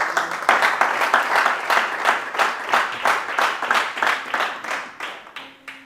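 Church congregation applauding and cheering the Lord, a dense run of loud rhythmic clapping with crowd voices that pulses steadily and gradually tapers toward the end.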